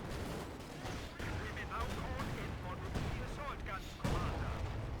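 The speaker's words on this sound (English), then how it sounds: "Just missing artillery rounds." Artillery rounds land across a Company of Heroes 2 battlefield amid a dense wash of rumbling gunfire, with heavier blasts breaking through around the second mark and again near the end.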